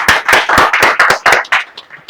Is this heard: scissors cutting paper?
no